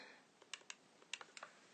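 Quiet, close computer keyboard typing, a short burst of about eight light, uneven key clicks over a faint background hiss.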